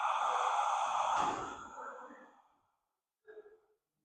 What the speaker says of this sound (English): open your mouth and slowly breathe out through your mouth